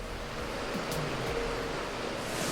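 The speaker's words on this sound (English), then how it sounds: "And there's a waterfall here. We hit rapids." A waterfall and river rapids roar inside a cave in Laos, a loud continuous wash of rushing water close by, with no voices.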